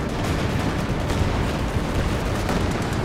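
Artillery fire rumbles continuously in a Company of Heroes 2 battle between Allies and OKW Wehrmacht forces, a dense, steady roar of overlapping gunfire and distant explosions with no clear breaks and no voices.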